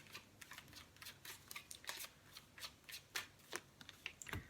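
Tarot cards are shuffled and drawn by hand in a quick run of crisp riffling bursts, close and fairly quiet, with short pauses between flurries.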